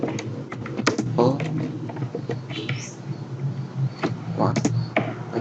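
Keys tapped on a computer keyboard while a file name is typed into a save dialog, quick irregular clicks running under steady talk throughout.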